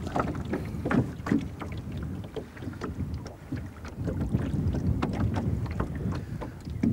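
Wooden oars dip and pull through water beside a rowing boat on a French carp lake, a steady rhythm of splashes and drips close by with light wind buffeting the microphone.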